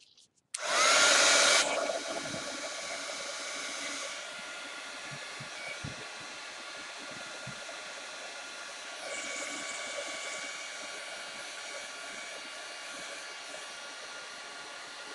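A hair dryer drying modeling paste tipped with a little green switches on at full roar, then settles into a steady, close, continuous whoosh with a faint whine.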